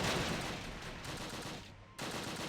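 An MG42 machine gun firing in the Close Combat war game at Arnhem Rail Bridge, a dense, continuous rattle of gunfire that briefly cuts out near the end before resuming.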